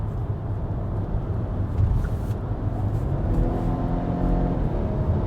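A 2019 Volvo S60 R-Design on winter tires pulls away from a stop. A low engine rumble and road noise build steadily as the revs climb, heard from inside the cabin with no talk.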